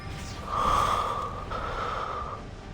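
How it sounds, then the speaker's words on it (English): A character in the video game Love and Deepspace breathes heavily, with two strained, gasping breaths close up over a faint steady background, and no speech. "Your breathing's so heavy."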